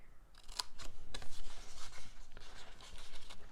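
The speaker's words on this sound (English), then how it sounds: "Fold that and cut." Paper is folded and cut for a treat box template, with close scissor snips and rustling, rubbing paper handling in a quiet room.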